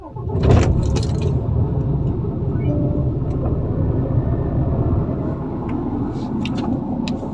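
A 2022 car with a 510-horsepower engine starts close by with a sharp burst, then settles into a loud, steady, deep idle rumble that fades slightly, with faint clicks on top.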